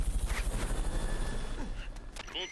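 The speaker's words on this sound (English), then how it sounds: "Fulton recovery subject confirmed onboard helicopter" A helicopter in the video game Metal Gear Solid: Peace Walker gives off a low rotor chop, fairly quiet and continuous, with a few brief game effects layered on top.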